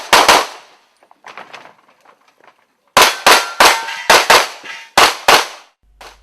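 Pistol fire on an IPSC World Shoot stage: sharp, loud shots in quick pairs and strings, with a pause of fainter, more distant shots before the close rapid volleys resume outdoors.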